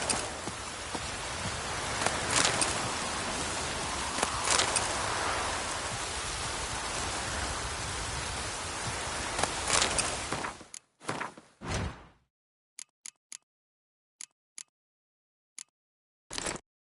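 Steady rainfall in The Witcher 3, a dense hiss of drops lasting about ten seconds, then cutting off abruptly into near silence broken by a few isolated thuds and ticks.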